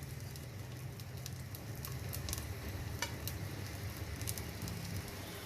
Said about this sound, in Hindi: तो चलिए अब इसको मैं अपनी हांडी में डालने लगी हूँ। ऑयल में डाल दिया इसको।